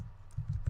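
A few close, quick keystrokes on a computer keyboard, three or four soft clicks spaced irregularly over a quiet background.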